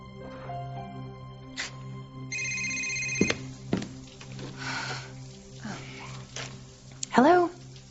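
A cell phone rings with a bright electronic tone, a sustained ringing passage and short bursts, among room noises and clunks, with people talking around it.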